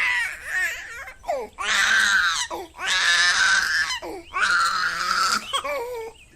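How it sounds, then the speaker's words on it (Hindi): A hungry baby cries in repeated wailing bursts, loud and close, with short gasping pauses between each cry. "गुड़िया भूख से फिर रोने लगती है"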